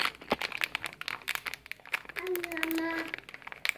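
A packet of hawawshi spice mix crinkling as half of it is poured out, crisp rustling and crackling close by, with someone speaking over part of it.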